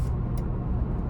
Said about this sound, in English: starting the test drive in the Land Cruiser iForce Max here, pretty quick getting up to speed as I would expect